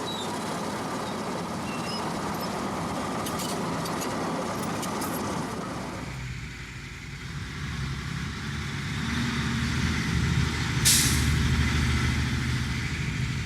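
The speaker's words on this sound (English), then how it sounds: "We decide to follow a lorry" A lorry driving along a road near old gas boreholes, its engine droning steadily, then a sharp hiss of air brakes, with the rumble continuing afterward.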